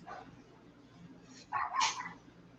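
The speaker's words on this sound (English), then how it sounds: "my little pug is getting mad about something" A little pug barks agitatedly, giving a short cluster of sharp, yappy barks at moderate distance, preceded by faint whimpers, in an otherwise quiet room.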